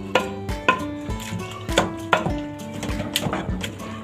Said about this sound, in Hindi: और अच्छी तरह से यहाँ पे इसको घोट लगाना है